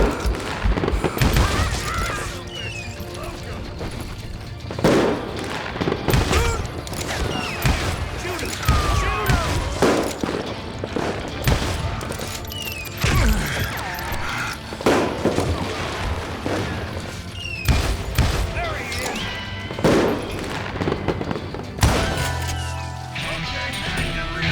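Rapid bursts of gunfire and booming shots from the Western shooter game Call of Juarez Gunslinger, loud and dense throughout, with overlapping volleys and brief pauses, plus occasional shouted voices mixed in.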